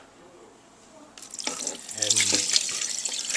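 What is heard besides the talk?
draining juice from a can of mandarin oranges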